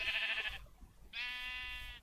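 Two bleats from a Minecraft sheep, a clear harmonic call of about half a second followed after a short pause by a longer, steadier one, close and alone with no talk.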